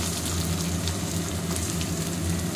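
Sliced onion sizzling in hot oil with cardamom, cinnamon and cumin, a dense, steady crackle and hiss close by, continuous and loud with no voices over it.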